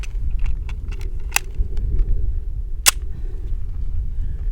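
Two sharp, loud XD-9 pistol shots crack out at an indoor range, fired at a 10-meter target and spaced about a second and a half apart, over a steady background hum with faint clicks.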